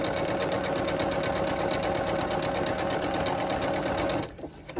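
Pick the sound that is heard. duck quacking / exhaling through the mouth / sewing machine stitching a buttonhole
sewing machine stitching a buttonhole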